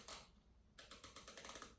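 The front suspension adjuster on an MK120 clicks in a quick, even series of about nine crisp, close ratchet clicks after an initial click, quiet and heard alone.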